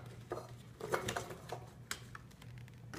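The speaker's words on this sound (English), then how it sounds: "put your strawberries into a medium or small pot" Strawberries are dropped into a medium pot in a home kitchen, making a few quiet, uneven taps and soft clunks against the metal.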